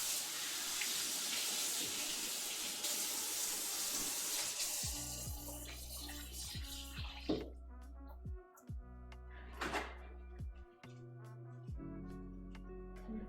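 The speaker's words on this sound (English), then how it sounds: "Let me wash up and then we'll put it in." Washing up at a kitchen sink with the tap running: a bright rushing stream of water at first, then it stops, leaving clinks of dishes, drips and faint handling noises close by.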